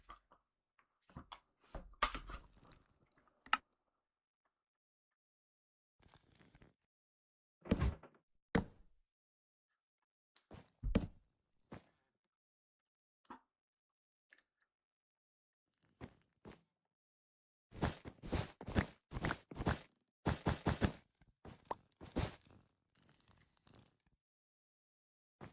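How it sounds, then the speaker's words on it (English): Someone crunches chips, bursts of dry crackling crunches scattered across long silences, some brief and isolated, others in dense rapid clusters, close and fairly quiet. "You're, you're chewing chips?"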